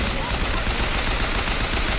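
Turrets firing in Bioshock Infinite, dense continuous gunfire and noisy battle activity filling the whole stretch at steady loud volume, with no clear pauses.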